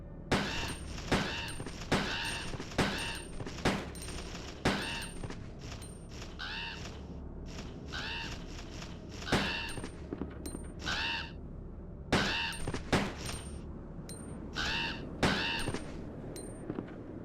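Crows cawing amid bursts of gunfire in Resident Evil 2 (1998), loud sharp shots in rapid clusters with short pauses, mixed with harsh bird calls, close and intense throughout.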